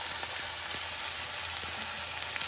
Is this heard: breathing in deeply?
no